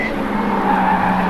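Toyota Supra MA70 production race cars at speed in a 1989 Group 3E race, a loud sustained engine drone with tyre scrub over about a second, no voices.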